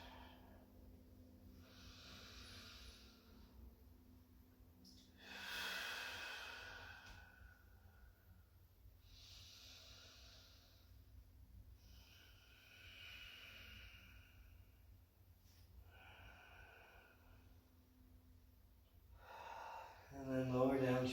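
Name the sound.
slow deep breathing during yoga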